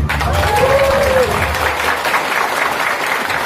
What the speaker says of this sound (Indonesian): kasih aplaus yang meriah buat Mbak Andre